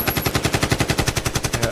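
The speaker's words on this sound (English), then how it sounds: "Can we do gunshot celebration, please?" Rapid bursts of celebratory gunfire, a steady machine-gun-like rattle of evenly spaced loud shots repeating throughout, close and without talk.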